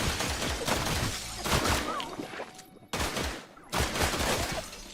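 Bursts of shard-ammo gunfire in The Last Caretaker, loud and dense, arriving in three long volleys separated by short gaps, with crashing impacts mixed in and a brief drop to near silence.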